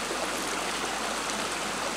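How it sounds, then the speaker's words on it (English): A small stream running off Mount Kilimanjaro, its water rushing in a steady, dense wash that stays even throughout, with no voices over it. "I can hear the water running"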